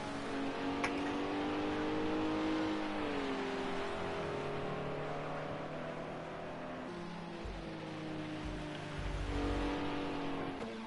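BMW endurance race car at Le Mans passing with a steady, droning engine note whose pitch shifts and sweeps as it moves, heard at moderate distance over continuous track noise, with a few low thumps near the end.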